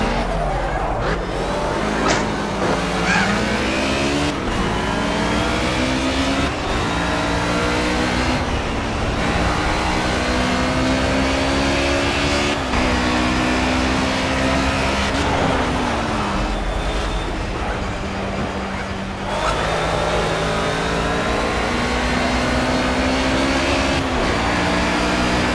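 Racing car engine in Project Cars played in VR, roaring loudly and steadily throughout, its pitch climbing and dropping through repeated gear changes as the car drives on.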